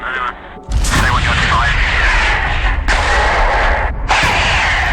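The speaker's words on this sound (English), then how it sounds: "Flares are fired in the direction of the vehicle to warn them off." Flares fired toward an approaching vehicle at night near a military convoy, heard as loud, close bursts and sustained roaring blasts, with brief gaps between them.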